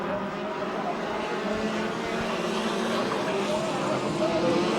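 Ford Focus Midget race cars roar around the Ventura, California track in a steady, loud engine drone that stays dense and continuous, with the pack passing close throughout and no break in the noise.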